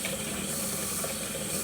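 Tap water runs steadily in a home kitchen while chocolate is rinsed off a hand, a brief continuous hissing gush at close range with no voices.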